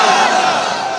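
A large outdoor crowd at a religious rally in Kishoreganj answers a takbir call with a loud, massed chanted slogan, many voices merged into one sustained roar.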